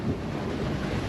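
Wind buffeting and ocean waves around a sailboat at sea on a passage from Tahiti to Hawaii, heard from under the dodger with about 3 metre swells: a steady broadband roar with gusty microphone rumble, no voices.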